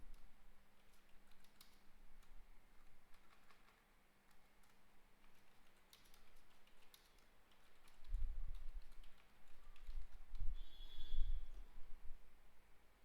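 Keys tapped on a computer keyboard while entering text into a monochrome design, a soft scattered clatter of clicks running faint throughout, a little louder and denser near the end.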